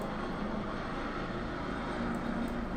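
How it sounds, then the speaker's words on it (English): A real helicopter passes overhead outside, its engine roar a steady, moderately loud drone that stays constant through the moment, with no talking over it. "Oh my god, the chopper, please go away."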